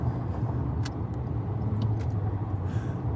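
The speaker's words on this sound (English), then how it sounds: "I got past this truck" A vehicle on the road, passing a truck, gives a steady close engine rumble with road noise throughout and a few brief clicks and hisses above it, with no talking.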